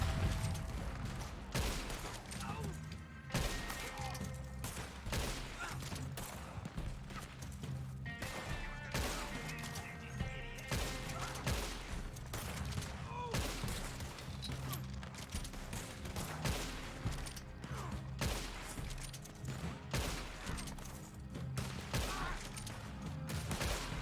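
Gunfire in the Red Dead Online game: repeated shots crack through a busy, dense mix of battle noise, keeping up a steady, loud barrage across the whole stretch.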